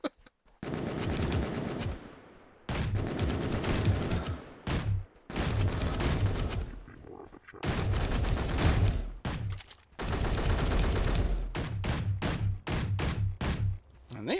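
Rapid automatic gunfire from AI enemies strafing in Space Engineers, loud bursts of several seconds broken by short gaps and then quicker stuttering volleys near the end.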